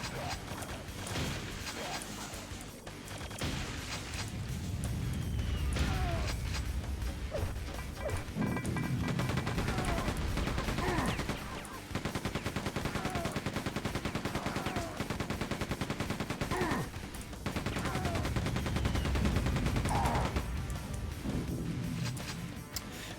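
An enemy grunt firing its weapon in the video game Quake 2, with dense, repeated gunfire and mechanical clanking that continue steadily alongside game noise for the whole stretch.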